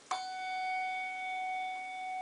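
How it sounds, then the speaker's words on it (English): A handbell tuned to F sharp is struck once and rings out with a clear sustained tone that decays slowly, while an F natural bell is damped, heard close in a quiet room. "at the same time I ring the F sharp, the F natural is damped."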